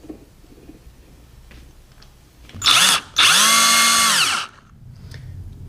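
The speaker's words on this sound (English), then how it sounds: "Just screwing things down for when we're torquing at 55 foot-pounds so this thing doesn't move around on the table." A power drill drives screws into a table for an airplane engine build, two loud close whirring bursts, a short one and then a longer steady run, with the motor pitch rising and falling.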